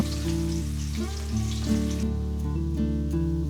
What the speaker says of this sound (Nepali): लसुनलाई हामीले ब्राउन हुने गरेर भुट्नु पर्दछ।